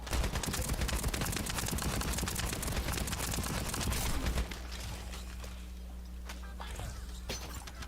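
Gunfire in the co-op shooter video game The First Descendant, a dense, rapid stream of shots for about four seconds, then quieter scattered pops over a steady hum.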